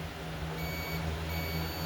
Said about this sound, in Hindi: बीप मोड पे भी दिखाता हूँ और देखिए बीप मोड पे